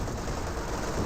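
Dense, continuous rattle of battlefield gunfire in Company of Heroes 2, a loud, thick wall of machine-gun and rifle fire with no speech.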